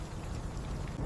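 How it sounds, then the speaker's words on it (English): Heavy rain pouring steadily, a dense, continuous hiss of drops striking surfaces outdoors, loud and unbroken with no voices. "It is finally starting to rain heavily."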